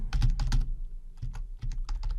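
A workflow name being typed on a computer keyboard produces close, crisp key clicks in quick clusters with short pauses between them, loud and alone with no talking.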